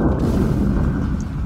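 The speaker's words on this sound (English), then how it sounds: "The explosion." An explosion in the video game GTA V gives a loud, sustained low rumbling boom that fills the whole moment, with no talk over it.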